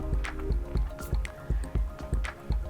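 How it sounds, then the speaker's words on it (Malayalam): Oil worked into a thick urad dal dough, producing wet squishing and sticky dripping sounds in a steady rhythm of repeated strokes, close up, with no voices. "സെക്കൻഡ് ടൈം എണ്ണ ഒഴിച്ച് നന്നായിട്ട് മിക്സ് ചെയ്യണം."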